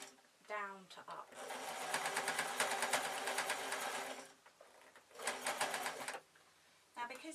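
Sewing machine stitching ruffles on a flowing shirt, running in long steady bursts with rapid even stitching, pausing between runs, with brief fabric handling noises at the start and end.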